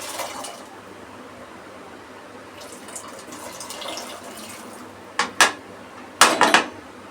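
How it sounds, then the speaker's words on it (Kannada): Kidney beans (rajma) tipped with their water into a boiling pot in a home kitchen, giving soft splashing and a few sharp clanks of a utensil against metal near the end, with no talk. "ಈಗ ನಾವು ರಾಜ್ಮಾ ಹಾಕ್ಕೊಳ್ಳೋಣ ವಿತ್ ವಾಟರ್ ಸಮೇತ ಹಾಕ್ಕೊಳ್ಳೋಣ."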